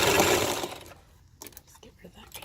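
A sewing machine runs a plain zigzag stitch onto decorative elastic: a dense, loud whir at the start that stops within a second, then scattered handling clicks and rustles.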